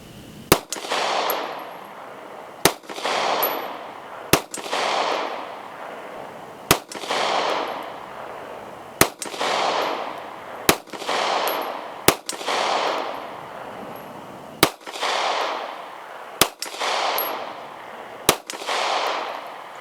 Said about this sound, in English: With the compact slide, we're going to be shooting at 50 yards.